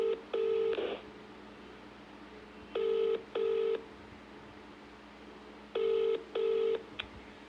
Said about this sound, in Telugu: ఎవరు ప్రవీణ్ గారికి ఒకసారి కాల్ చేద్దాం.